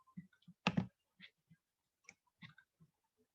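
Quiet computer mouse clicks while working in SPSS, a scattered run of light taps with one louder double click near the start, close and isolated in silence.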